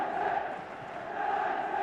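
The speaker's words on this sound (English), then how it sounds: "Listen to the crowd." Stadium crowd at a Liverpool versus Manchester United football match, a steady roar of massed voices and chanting that holds loud and continuous throughout, swelling slightly toward the end.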